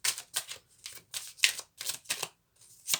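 Oracle cards are drawn one at a time from a deck, giving a series of sharp papery snaps and slides, about nine distinct crisp bursts at an irregular pace, close and clear with no talking.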